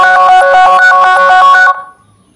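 A mobile phone ringing loudly through a Find My Device play-sound alert, a rapid, pulsing electronic ring tone repeating for about two seconds and then cutting off abruptly into near silence.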